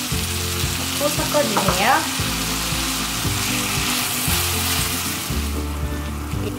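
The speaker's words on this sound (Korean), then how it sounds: "지글지글 소리가 올라오면" Steady loud sizzling of pork belly and cabbage frying in a pan, with some stirring scrapes and a brief spoken remark over it.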